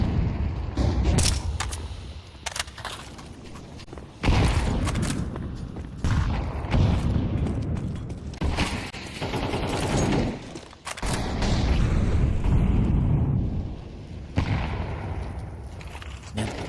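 Dense, continuous gunfire and explosions in a competitive video game battle, loud rapid bursts and booms layered over one another almost without pause, with a few sharper surges.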